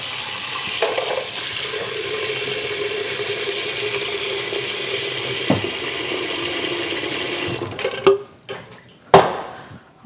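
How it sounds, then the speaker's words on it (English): Tap water runs steadily into a kitchen sink as noodles are rinsed, a continuous close hiss that stops near the end, leaving a few clinks and splashes of handling. "Dump them in the sink with some water."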